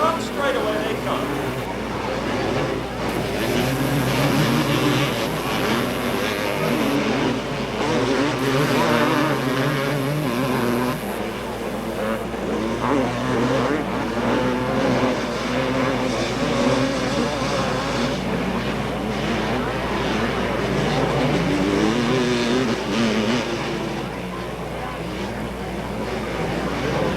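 Off-road three-wheelers, quads and motorcycles race down the front straightaway at Raven Raceway in 1987, a steady, droning engine roar that rises and falls as they pass, under continuous excited commentary.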